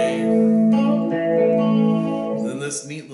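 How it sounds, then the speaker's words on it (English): An electric guitar rings out a sustained chord with full distortion, loud and close. It holds steady for a few seconds, then breaks into rougher, fluttering tones near the end. "I just play the chord with full distortion"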